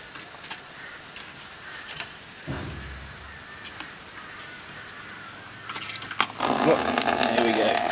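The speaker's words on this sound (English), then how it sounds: "while the coolant's draining out" Coolant drains from a 2001 Honda Civic, a faint trickle at first, then a louder splashing pour of liquid near the end, with occasional clicks and handling noises.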